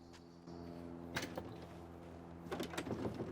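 Locked shed door rattled in the video game Tell Me Why: two clusters of short clattering, latch-like knocks sound over a steady low hum, the second cluster busier and more prolonged.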